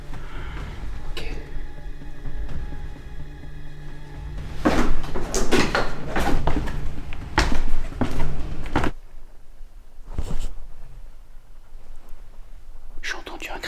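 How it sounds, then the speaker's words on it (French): A heavy door in a game creaks open in long grinding bursts, loud and close, with quiet gaps between and a further short creak near the end; faint whispering sits under it. "J'ai entendu un grincement, un gros grincement."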